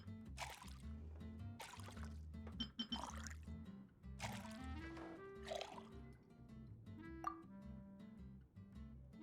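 Drinks are poured and mixed in the Genshin Impact video game: liquid trickles, fills and drips in several bursts between soft glassy clinks, with brief chiming game tones, close and moderately quiet.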